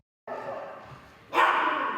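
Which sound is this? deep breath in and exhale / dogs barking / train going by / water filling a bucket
dogs barking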